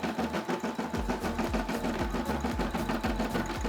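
Brother SE600 embroidery machine stitching an Uber icon design, a fast, regular mechanical chatter of needle strokes with a whirring motor, close and continuous.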